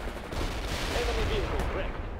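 Rocket launchers firing in the World in Conflict video game, a dense volley of blasts and explosive cracks over a continuous loud rumble of battle.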